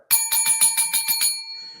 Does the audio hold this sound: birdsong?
no